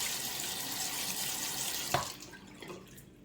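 A sink tap runs as a crystal hair remover is rinsed under it, close steady water hiss that cuts off near the end, leaving a few faint drips.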